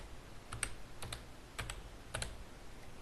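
Fingers tap on a computer keyboard in quick pairs of light clicks, four small bursts spaced about half a second apart, quiet and close with no voices.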